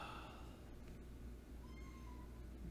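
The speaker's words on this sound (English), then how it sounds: "Oh, the cat is so needy right now." Needy pet cat meowing faintly in the background, a few soft drawn-out calls over a steady low hum, no talk.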